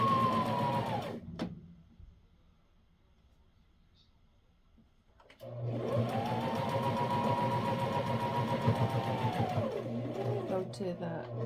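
Domestic sewing machine stitching a wool diaper cover, a steady mechanical whir that runs briefly, stops for a quiet pause, then resumes in a longer run with the motor pitch rising and falling.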